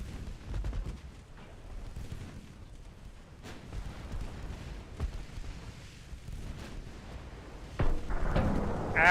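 Naval gunfire aimed at a battleship in a war strategy video game, heard as muffled booming shots and rumbling blasts scattered across a dense background, with a louder burst near the end.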